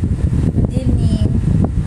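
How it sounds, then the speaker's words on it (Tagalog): Electric fan blowing straight into a phone microphone, a steady close rumbling wind buffet that fills the low end throughout, with faint room sounds behind it. "Tinapat ko talaga siya sa electric fan para mabawasan naman init niya."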